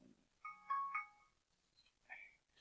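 A mobile phone gives a short melodic ringtone, a few bright tones in quick succession, faint and close in an otherwise quiet room.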